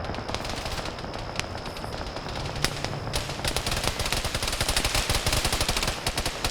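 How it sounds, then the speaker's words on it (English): Video-game gunfire from LAV-25 rounds comes as dense, rapid bursts of machine-gun fire, with a few sharp louder cracks. The firing rolls on continuously, growing heavier toward the end. "we're hearing some LAV-25 rounds coming in"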